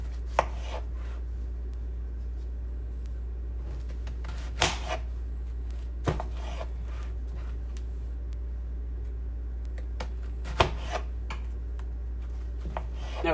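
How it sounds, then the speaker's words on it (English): A knife slices back down through a quartered onion on a cutting board, cutting it into petals: a handful of sparse, sharp taps spread across the clip over a steady low hum, with no talking. "Slice it back down again."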